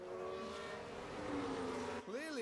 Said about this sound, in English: Just goes wide and just skids along the wall.